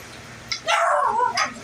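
A neighbor's dog lets out a couple of close, sharp barks and a drawn-out yelp over a quiet background, with no talking.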